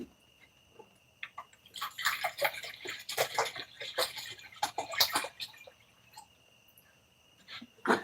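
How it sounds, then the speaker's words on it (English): Water splashes and sloshes into a pet's bowl in bursts, a close, clattering pour that stops and starts over several seconds with a few drips at the end. "You want water? You need some water? I'll give you some water."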